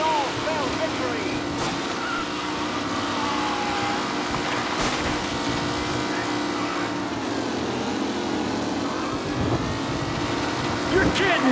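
Race cars roaring around a track in Mafia Definitive Edition, a continuous loud engine drone with shifting whines as the cars pass, and a voice talking over it.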